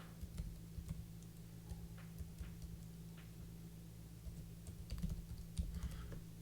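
Soft keystrokes on a computer keyboard as login details are typed, a light irregular run of clicks over a steady low hum, fairly quiet and close.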